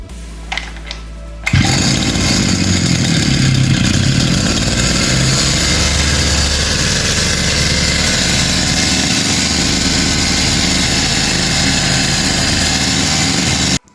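A grass cutter machine engine is started with a single pull at a repair shop, catching with a sudden burst and then running loudly and steadily in a buzzing, high-revving drone until cutting off abruptly.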